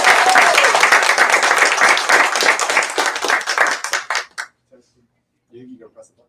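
An audience applauds in a steady burst of clapping to welcome guest speakers at a lecture event, tapering to scattered claps and then brief murmured talk near the end.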